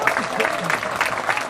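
A crowd at a military appreciation gathering aboard the Carnival Vista cruise ship applauding and cheering for the Marines, steady rhythmic clapping with voices rising over it.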